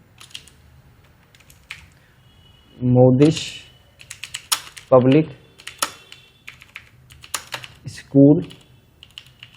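Fingers type text into an Excel spreadsheet on a computer keyboard, with bursts of close key taps and clacks spread through the stretch, broken up by someone talking in between.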